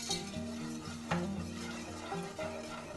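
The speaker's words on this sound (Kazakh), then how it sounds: "Сосын жақсылап араластырамыз." A spoon stirs boiling sugar syrup of sugar, water and citric acid in a pot over a low gas flame for chak-chak, making repeated close scraping strokes and soft bubbling, with no talk.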